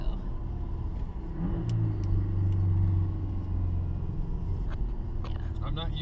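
A Subaru Forester tuned to around 500 whp cruises on a test drive, its engine a steady low rumble that swells briefly as it accelerates, heard from inside the cabin with people talking over it.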